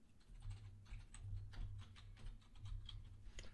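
Quiet, steady typing on a computer keyboard, a run of soft clicky keystrokes at close range with no talking.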